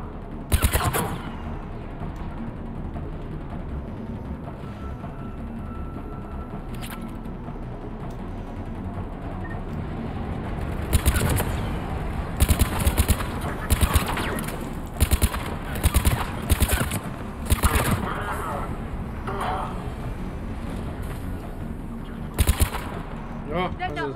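Bursts of rapid gunfire in Mass Effect 3 crack out in repeated volleys over a steady battle din, with voices talking through the fighting.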